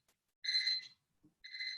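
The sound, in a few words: thermometer alarm beeping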